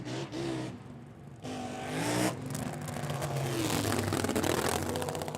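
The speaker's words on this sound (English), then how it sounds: "That was a cool drag race." Nitro funny cars in a drag race, a loud roaring engine whose pitch rises and sweeps as the cars accelerate, sustained and powerful, heard as a replay of an Aeroflow Outlaw Nitro Funny Cars event at Springmount.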